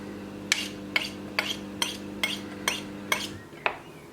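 A knife tip taps against a plate seven times in an even rhythm while cutting around pastry, each a bright, close clink over a low steady hum, with no talking.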